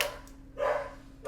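Harriet, a dog at the North Fork Animal Welfare League shelter, lets out two sharp close barks a moment apart in an echoing room, with no talking in between.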